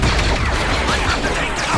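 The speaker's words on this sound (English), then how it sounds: "I'm getting shot here" Loud, dense gunfire fills a Star Wars video game ambush on Coruscant, blaster shots and bursts overlapping into a continuous close barrage with no pause.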